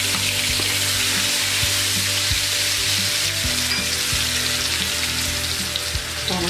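Garlic sautéing in a pan as the base for a sauce, a steady close sizzle and crackle of frying with occasional stirring scrapes, continuous throughout with no talking.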